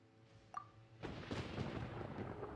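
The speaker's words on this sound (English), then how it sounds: "Paimon hears thunder!" Thunder in Genshin Impact rumbles in abruptly after a short, faint chime, then keeps rolling as a broad, moderately quiet crackle.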